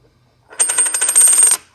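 Silver coins clink together in a bright, metallic jingle lasting about a second, with dense ringing overlapping taps close by, among them Barber dimes, a Standing Liberty quarter, a 1962 Philadelphia Franklin half and Walking Liberty half dollars.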